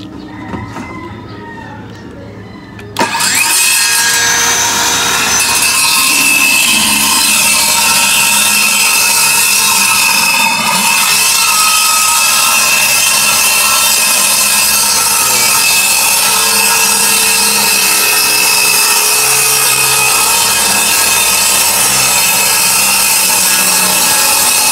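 A power saw cuts through plywood along a guide, starting with a sharp burst and then running as a loud, steady whine with a grinding edge for over twenty seconds.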